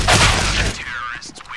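Rapid burst of gunfire in Counter-Strike: Global Offensive, loud and close, with several shots packed at the start and then fading into a ringing tail.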